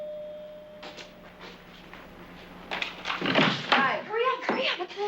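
A door is pushed shut with a muffled thud, and people talk urgently right after it closes.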